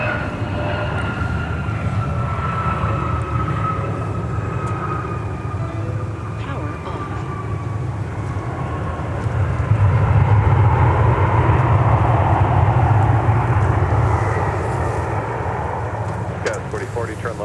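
A Boeing 757-300 airliner on a go-around at Minneapolis–St. Paul Airport makes a broad, distant jet roar that swells for several seconds before easing, with faint voices underneath.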